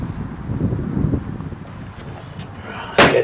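Wind buffets a used 2022 Bailey Pegasus Ancona Grande caravan, a steady low rumbling roar with gusty swells, ending in a sharp louder burst of rushing noise.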